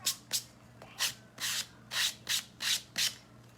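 Regular sandpaper rubs back and forth over a rustic wooden craft star in eight steady, rhythmic strokes, close up and fairly quiet over a low background hum.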